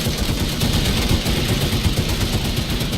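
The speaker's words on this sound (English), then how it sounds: "Like here, I'm shooting you right now." Rapid automatic gunfire fills a shooter video game set in VR infantry combat in Planetside 2, a dense steady clatter of shots running without pause at close range and fairly loud.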